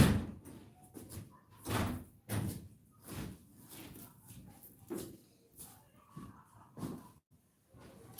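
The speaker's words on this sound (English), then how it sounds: "I'm going to close the door because I hear so many voices." A door pushed shut indoors with a few dull thuds and bumps among faint background voices and room noise, closing in short separate knocks rather than one loud slam.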